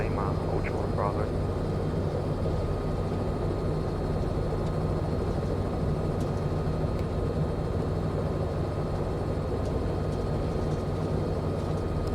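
A CowanSim Robinson R66 helicopter in Microsoft Flight Simulator 2020 hover taxis with a steady, loud, dense rotor and turbine drone that holds at an even level throughout, while a voice talks over it.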